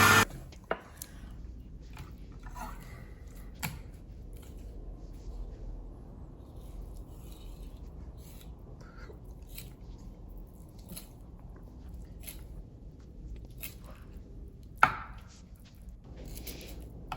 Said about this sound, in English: now we're going to slice up our meat.